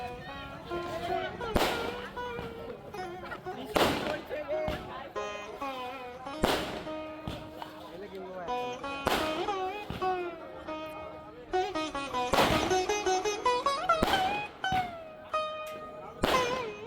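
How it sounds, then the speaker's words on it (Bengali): Fireworks set off at Sadarghat for Jagaddhatri Puja, a dense run of sharp bangs and crackling bursts recurring every second or two over about seventeen seconds, with voices and festival noise underneath. "বাজি ফাটানো হচ্ছিল।"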